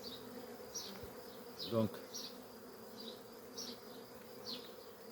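Honey bees from Cédric's hive buzz steadily around a heavy frame, a dense, close swarm drone with a few louder passes near the listener and a brief French word spoken.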